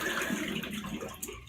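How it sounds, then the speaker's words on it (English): Hot water poured from close by onto the top of a tub of shaving soap, a short splashing trickle that wavers in strength, with no talking. "So just putting some hot water on the very top to soften things"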